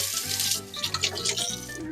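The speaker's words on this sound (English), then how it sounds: "Let me wash my hands real quick." Water runs steadily from a tap while hands are washed under it in an RV kitchen during meal preparation, a continuous broadband splashing hiss with small fluctuations, close and fairly loud.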